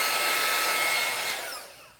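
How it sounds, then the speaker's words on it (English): A heat gun blows a steady, loud rush of hot air across geode resin, then fades away over the final second. "So that's what I love about using the heat gun"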